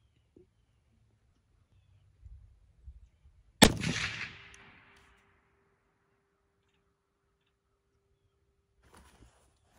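A single loud shot from a Christensen Arms Ridgeline 300 Win Mag rifle cracks out sharply outdoors, its boom trailing off over about a second, with quiet shuffling before and a faint sound later.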